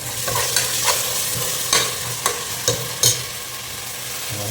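Fish fries in hot oil with tomato paste added, a constant bright sizzle punctuated by occasional clicks and scrapes of a spoon stirring in the pan.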